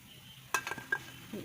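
Fried gulab jamun being lifted out of hot oil with a metal strainer after the flame is turned off: a faint oil sizzle underneath, with a couple of light scraping and clinking touches of the strainer.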